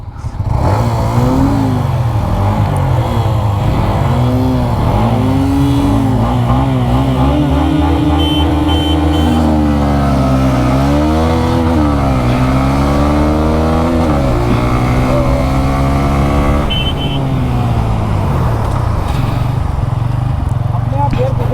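Bajaj Pulsar N125 and Hero Xtreme 125R motorcycles in a drag race, two 125cc engines revving loudly and climbing through gears up close, with steady rising-and-dropping pitch sweeps and a voice talking over them.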